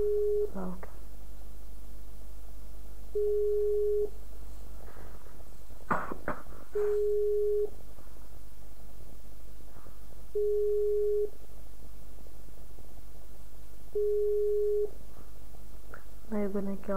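A telephone ringback tone during a prank phone call: five steady, evenly spaced tones roughly every three seconds, with faint background noise and a brief rustling burst between them.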